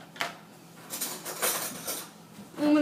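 A stick of butter is scooped out into a large bowl for cookie baking, with a run of close scraping clinks and soft knocks against the bowl and no talking.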